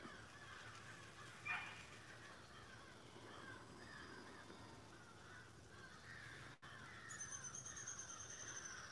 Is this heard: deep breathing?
no